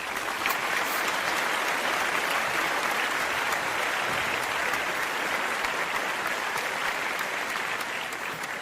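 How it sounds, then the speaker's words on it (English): Steady applause from a crowd at a New Year's Eve party, dense and continuous clapping throughout without any pauses or voices. "Let's get some applause going."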